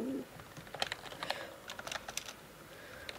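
Rapid, irregular keystrokes on a computer keyboard, close and fairly quiet, with bursts of clicks and short pauses and no talking.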